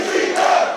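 Crowd at a women's wrestling show cheering for Amber Nova: a brief, loud, dense roar of many voices, steady throughout.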